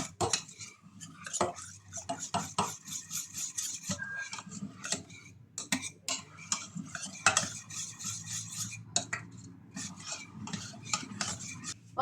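A spoon scrapes and clinks steadily around a pot, stirring chocolate into milk for a sweet cheese-and-chocolate dessert, with a busy, irregular rhythm of metallic taps and rubbing and no voices.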